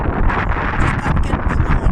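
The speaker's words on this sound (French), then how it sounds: "il y a du vent" Wind buffets a microphone outdoors with loud, continuous low rumbling that swells and gusts throughout.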